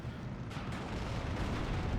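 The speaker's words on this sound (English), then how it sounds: "Oh, the explosion!" An explosion in the World War II strategy game Steel Division 2, a dense low rumbling boom with crackling, gunfire-like texture that rolls on steadily for about two seconds without speech.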